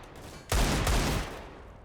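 Rapid bursts of Tech-9 pistol fire and Desert Eagle shots in a Counter-Strike esports match, a loud dense volley erupting suddenly and rattling on for under a second before trailing off.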